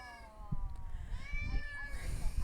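A cat meows insistently for attention behind a door, a drawn-out, wavering cry at moderate volume over low rumbling background noise.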